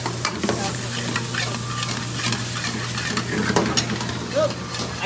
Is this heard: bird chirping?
no